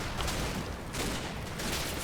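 Dense, continuous small-arms and machine-gun fire from the Normandy wartime game Combat Mission: Battle for Normandy rattles on without pause, a sustained fusillade with bursts swelling and fading.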